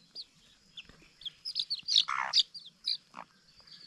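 Six young chicks chirping nearby: a run of bright, high peeps in quick irregular bursts, briefly overlapping, with a faint low rustle beneath and no talking.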